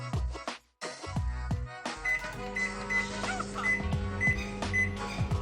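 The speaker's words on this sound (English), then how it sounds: "I'm going to go in the oven for 2 minutes" An oven hums steadily while baking a mug cake, with a few short beeps and clicks first, then a droning motor tone and faint periodic chirps, close by with no talk.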